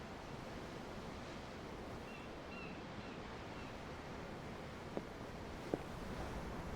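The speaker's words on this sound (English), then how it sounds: "The ocean? Yeah. The waves." Steady ocean surf washing in the video game Tales of Arise, a constant broad hiss of waves heard from a ship's deck, with a couple of tiny clicks near the end.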